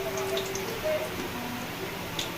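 Soybean pakoras being stirred while frying in oil: a soft, steady sizzle with faint drips and small ticking sounds close by, and no talk over it.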